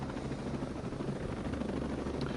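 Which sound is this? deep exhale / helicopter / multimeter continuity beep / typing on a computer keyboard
helicopter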